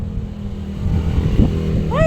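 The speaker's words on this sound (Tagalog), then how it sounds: "napakaingay ng mga motorsiklo" Motorcycles pass noisily along a street outside a small shop, a loud continuous engine rumble swelling toward the end with a rising whine, close by.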